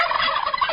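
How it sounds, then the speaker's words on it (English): A short, loud, warbling gobble, close and alone, in the manner of a turkey call. "Maybe I'm going to make crazy gobbling sounds?"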